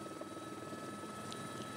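A helicopter flies over the marshes of Cayenne, its engine and rotor a steady, continuous drone heard at a moderate distance, with no voices.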